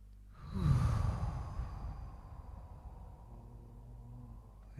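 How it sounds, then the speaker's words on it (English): One long, deep exhale through the mouth, breathy and close, swelling quickly and then slowly fading out over a few seconds in a quiet room. "and then exhaling through the mouth."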